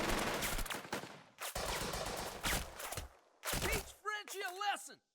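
Dense bursts of rifle and machine-gun fire in the World War II tactics game Burden of Command, loud rattling volleys separated by brief pauses, ending with a voice speaking over the game.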